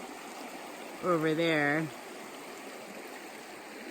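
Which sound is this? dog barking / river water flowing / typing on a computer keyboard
river water flowing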